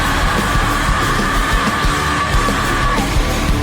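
A concert crowd yelling and cheering at a show at Pol'and'Rock, a loud, dense and continuous roar of many voices that fills the space without letup.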